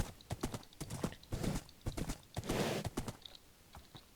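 In the video game Minecraft, a horse's hooves clip-clop in a quick, uneven rhythm as it is ridden back into its stall, close and fairly quiet, with brief louder rustling bursts between the steps.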